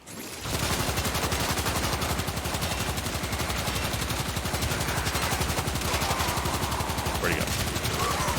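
Knell Prime pistol hip-fired in Warframe, a dense, steady rapid stream of shots held for several seconds at high volume, with game sounds and a voice mixed in.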